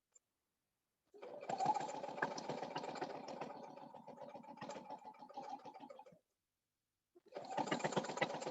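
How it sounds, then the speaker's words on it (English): Sewing machine stitching thick leather on a drum bag, running slowly and steadily in a long continuous burst with a fast rhythmic motor chatter, stopping, then starting again after a short pause; close and fairly loud, with no talking. "I'm just going to sew up to the top of the bag."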